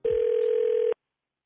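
A steady telephone dial tone hums on its own for just under a second before cutting off to silence, with no one speaking.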